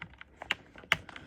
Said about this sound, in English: if I go ahead and click these keys down and then plug in the cable